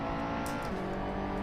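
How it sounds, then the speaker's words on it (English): Car tyres squealing in the racing game Assetto Corsa, a loud, continuous engine drone with a brief high screech of tyre squeal rising over it, and no talking. "Oh, you can hear the tyres."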